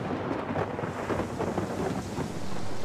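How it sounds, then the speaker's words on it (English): A thunderstorm over a lake rolls on with a low, rumbling growl of thunder beneath a dense hiss of heavy rain and some wind, loud and continuous, with no voices. "While they were crossing, a storm appeared."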